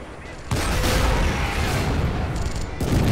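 Artillery salvo in the WWII strategy game Men of War: Assault Squad, a loud dense roar of booming gunfire that bursts in suddenly and rumbles on continuously, briefly dipping before surging again.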